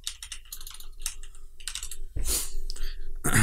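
Rapid, close computer keyboard typing in uneven bursts of crisp clicks, with a couple of louder thumps and rustles mixed in.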